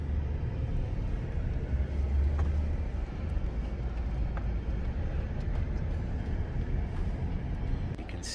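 A car rolls into Hacklebarney State Park, its engine and road rumble a steady, close, low drone throughout with no talking.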